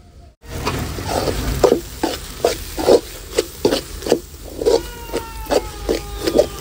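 Onions and chili sizzle in oil for a country-chicken thokku while a spoon stirs them, giving rhythmic scraping strokes over a steady frying hiss, close and fairly loud.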